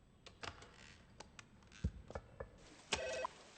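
A single electronic telephone ring, brief and fairly clear, preceded by scattered clicks and taps from a hotel front desk, all heard without any voices.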